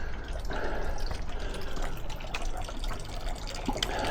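Water runs steadily at a drinking spot along a mountain trail on Inwangsan in Seoul, a continuous close splashing trickle with faint background sounds and no one speaking.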